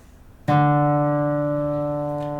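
A single plucked guitar note on the D string rings out clearly on its own, with a sharp attack and a long, slowly fading sustain.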